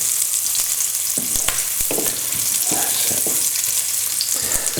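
Chorizo and sausage frying in hot oil in a pan for a cheese pasta bake, a steady loud sizzle with repeated scraping knocks of a spoon stirring the pieces around.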